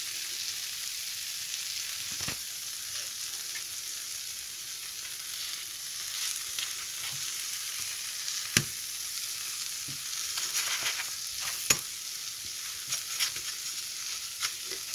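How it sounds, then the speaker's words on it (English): Pancake batter sizzles and crackles in a hot frying pan, a steady close frying hiss with occasional sharp pops and light clicks of a utensil against the pan. "I'm going to carry on and fry the rest."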